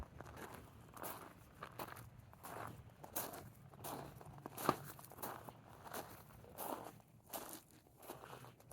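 Footsteps on a dry desert trail among cacti and creosote brush in Pancho Villa State Park, New Mexico: steady crunching steps in an even walking rhythm, soft and close, with no talk.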